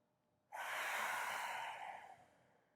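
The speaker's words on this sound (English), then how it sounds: "Just exhale." One forceful exhale out through the nose during a yoga breathing exercise, a close, breathy rush that starts suddenly and fades over about two seconds in a quiet room.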